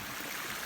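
Waterfall on Taum Sauk Mountain in Missouri, heard as a brief, even wash of rushing water close by, with no talk.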